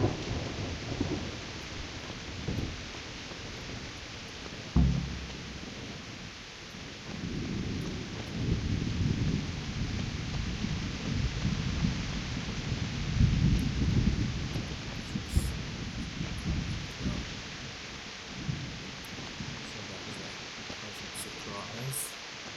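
Thunderstorm with steady rain in Kingdom Come: Deliverance, a continuous hiss of downpour with low rolling thunder and a sharp crack near the start, persisting at moderate level throughout.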